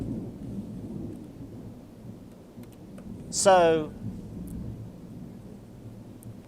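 Thunder rumbles low and steady behind a speaking voice, swelling into a brief, sharp burst partway through before settling back into the background.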